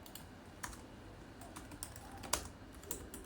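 Java code is typed on a computer keyboard, a quiet run of irregular key clicks with a few sharper taps, close and faint, with no talking.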